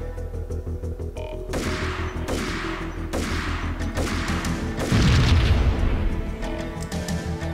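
Gunfire and heavy booms in the video game Max Payne, a dense barrage of repeated loud shots and blasts over a steady game background, swelling to a bigger burst near the end.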